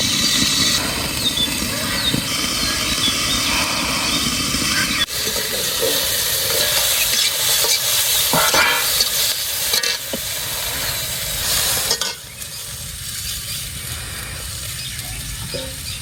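Onion and chili fry loudly in a pan under a continuous sizzle, with intermittent stirring scrapes and clatters and a brief low murmur of talk.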